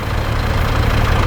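A tractor idling in the Farming Simulator game, its engine giving a steady low rumble with a faint knocking texture, loud and close over a brief stretch with no talk.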